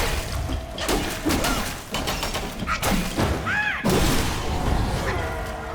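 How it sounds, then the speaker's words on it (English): Heavy thuds and crashing impacts from a headbutt attack in the action game Black Myth: Wukong, several dull blows with game effects ringing over a steady background. "Now that he's down, headbutt."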